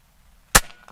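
Single gunshot fired over a chronograph, one sharp close crack that decays quickly after a quiet lead-in, standing alone.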